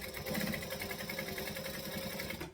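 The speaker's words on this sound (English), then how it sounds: "I'm just gonna stitch that first section again" Sewing machine stitching a seam on an expedition tote bag, a steady whirring buzz with rapid needle chatter running continuously before cutting off at the end, close and alone.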